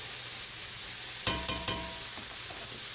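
Onions sweat in a skillet with just a little oil, giving a soft steady sizzle and hiss throughout, broken by a few brief clinks and scrapes of a utensil against the pan.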